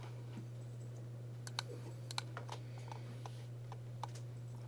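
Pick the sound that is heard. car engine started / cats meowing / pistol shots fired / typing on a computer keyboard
typing on a computer keyboard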